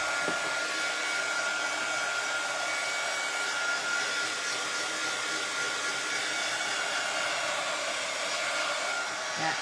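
A hair dryer runs steadily and loudly throughout, drying a craft birdhouse kit, a large church-style birdhouse, with a constant whooshing hum and no talk.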